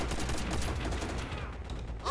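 Continuous automatic gunfire from a BAR rifle in the Call of Duty World at War game, a dense loud burst that thins out toward the end.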